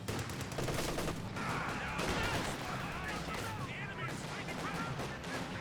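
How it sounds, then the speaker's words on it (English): Several Bren light machine guns from Company of Heroes 2 rattle in dense sustained bursts over constant battle din, loud and continuous, with a voice talking over the gunfire throughout. "There are 3 Brens firing there."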